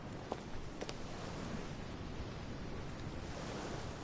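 Water rushes and washes steadily in the game The Council, a quiet continuous surf-like wash with no distinct splashes standing out.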